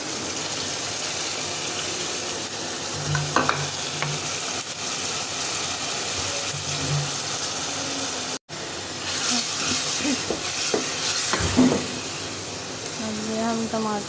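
Tomatoes with turmeric, salt and red chillies frying and being stirred in a pan for aloo bhujia, a steady sizzle running throughout with scraping stir strokes, a short break midway, and a voice speaking over it.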